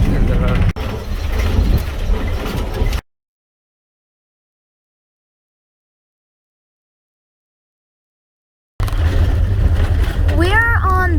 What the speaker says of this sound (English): Right now we are on a gravel and dirt road.